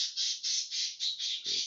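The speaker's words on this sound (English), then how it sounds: "Birds in the room." Birds squawking indoors in a room, a rapid run of about seven loud, harsh, shrill calls in close succession, close by and with no talk over them.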